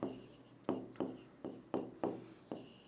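Chalk scrapes across a classroom board during a geography lesson in Hindi, with about seven sharp, evenly spaced strokes in a steady rhythm, each one fading quickly, heard close and fairly quiet.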